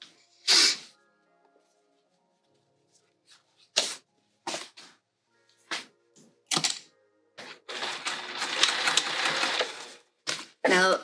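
A sewing machine stitches a tote bag in short intermittent bursts, with one longer steady run of whirring and clatter near the end. The machine is close, and there are brief pauses and small handling knocks between runs.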